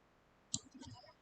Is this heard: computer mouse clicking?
yes